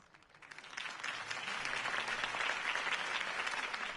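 Crowd applause at a campaign rally for Harvey Dent in the Batman Telltale video game, a sustained wash of clapping that swells and holds steady throughout.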